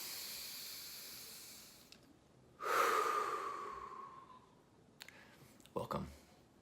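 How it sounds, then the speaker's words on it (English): A single deep breath drawn in close to the microphone, a long airy rush that fades slowly, followed by a few small clicks and a short soft exhale. "So I'll take a deep breath"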